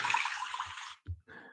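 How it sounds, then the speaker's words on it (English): Toilet flush sound effect: a loud rushing water burst that drains away in about a second, followed by a couple of short softer gurgles and a brief tail of running water, close and alone. "It's a toilet flush."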